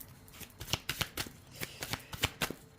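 Oracle cards being shuffled and drawn from a Manara deck, a quick run of crisp papery riffles and flicks close by, with no voices.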